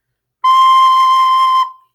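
Single high C note blown on a recorder, a steady, bright, pure tone held just over a second, close and clear, then tailing off quickly.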